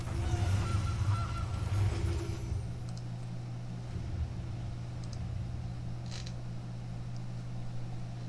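A Gilded Goose card honks in MTG Arena, a creaky mechanical goose-like call standing out clearly near the start over a steady low game hum, followed by faint scattered clicks.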